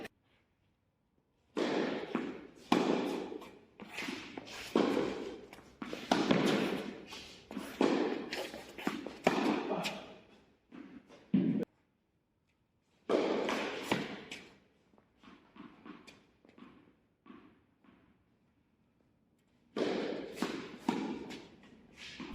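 Tennis ball struck back and forth during an amateur friendly match, ending in a forehand drop shot just over the net; sharp, moderately loud taps and thuds come in quick bursts separated by short pauses.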